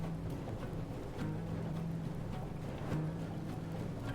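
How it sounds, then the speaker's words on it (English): A boat drives in a video game, its engine a steady, continuous drone with a low hum and airy wash that holds level throughout, with no voices over it. "Now this section really needed a lot of driving, a lot of boating around."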